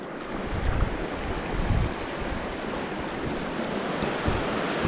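Fast-flowing river water in the Adirondack Mountains, a steady broadband rush of current running close and continuous, with faint low wind buffeting on the microphone.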